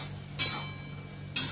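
Food being stir-fried in a pan, with two distinct scraping strokes of a utensil against the pan about a second apart, close and fairly loud over a quiet low hum, no talking.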